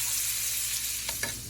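Steak sizzling in a pan while being basted with butter, thyme and garlic, a steady close crackling hiss with a couple of brief louder spoon scrapes near the end.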